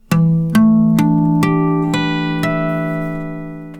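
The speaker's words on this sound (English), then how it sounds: "Touching the string here produces a harmonic which is one octave above the open strings." Natural harmonics chimed at the 12th fret across all six strings of a standard-tuned guitar, one octave above the open strings, six bell-like tones struck in even succession and left ringing, bright and close.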